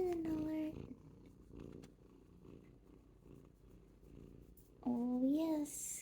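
A kitten purrs in a close, steady low rumble through the middle, with high voiced, meow-like sounds at the start and end.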